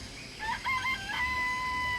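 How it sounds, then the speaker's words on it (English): Chickens in a coop in the Danganronpa video game cluck and crow in short, bright, close calls, ending in one sustained crowing note. "I remember there were some chickens in the chicken coop."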